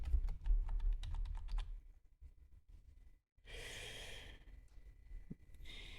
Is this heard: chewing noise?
no